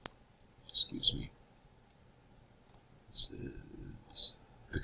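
A computer mouse gives a few sharp, isolated clicks spread across a few seconds, close and crisp, amid quiet stretches and faint low handling noise.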